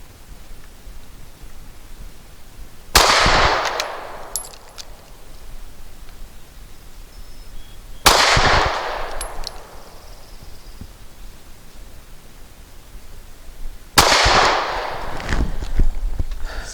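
A SCCY CPX 2 pistol fires Norma 108 grain monolithic hollow point rounds outdoors, three sharp, loud shots spaced about five seconds apart, each followed by a short echoing tail.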